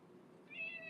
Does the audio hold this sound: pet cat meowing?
yes